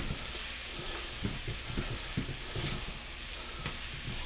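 Butter melts and sizzles quietly in a pan for buttery curry shrimp, a soft continuous fry with light irregular stirring scrapes and taps, fairly faint and without talk.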